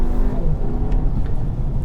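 A car engine pulls steadily under throttle, a loud, continuous low drone with layered harmonics that holds for the whole short stretch without a break.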